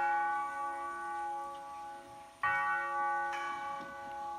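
The Burdin church bell of Les Alberts rings a sustained C sharp, its humming overtones decaying slowly before two fresh strikes renew the clear, resonant tone.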